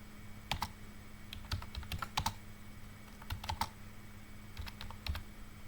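Keystrokes on a computer keyboard while text is entered in Microsoft Word, coming in quick irregular bursts of clicks separated by short pauses, close and fairly quiet over a low steady hum, with no talking.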